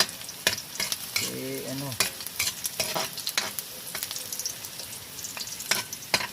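Bamboo shoots (labong) being sautéed in a pan, with steady sizzling and repeated stirring scrapes and clatters throughout; one short spoken word is heard near the start.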